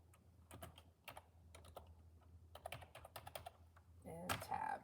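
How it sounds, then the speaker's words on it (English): Scripture being typed into presentation software on a computer keyboard: bursts of quick, close keystrokes with short pauses between, ending in a louder cluster of presses. "type in the scripture that we need"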